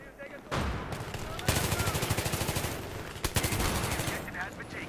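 Automatic gunfire from a weapon fired from the hip in Battlefield 3, sustained rapid bursts close and loud with a short break between volleys.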